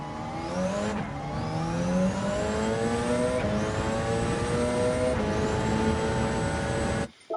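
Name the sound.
Gr.1 hybrid Le Mans race car engine at Road Atlanta in Gran Turismo 7 (video game)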